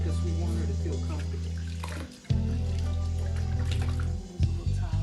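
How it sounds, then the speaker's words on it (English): Water splashing and running while a dog is bathed in a tub, a continuous wash of water with a brief pause and renewed splashes. "Give her a nice bath"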